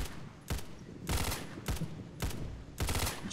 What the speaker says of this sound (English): They're shooting at the half track